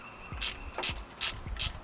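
A ratchet tightens the single nut holding a bracket on a 1995 Chevy 350 engine, four crisp, evenly spaced clicking bursts, close and clear with no talk.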